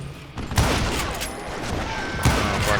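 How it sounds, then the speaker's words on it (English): A fusillade of gunfire in the Western shooter Call of Juarez Gunslinger: dense, crackling volleys of shots raining down, with sharp bursts near the start and again later, heard alone without speech. "a fusillade of bullets come raining down from on high"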